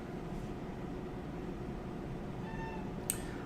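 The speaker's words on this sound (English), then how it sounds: "I just elbowed my cat." A house cat meows faintly after being accidentally elbowed, a short rising cry over a steady background hiss, with no talking.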